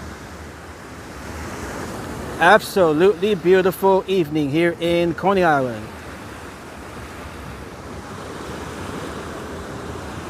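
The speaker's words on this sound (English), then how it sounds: "We got the waves here." Ocean waves break at Coney Island, Brooklyn, on an evening beach, making a steady wash of surf and wind. Someone speaks over it for a few seconds.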